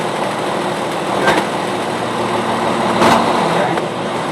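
A Class A truck engine runs steadily during an air brake tug test, a loud continuous drone with two brief surges of effort a couple of seconds apart.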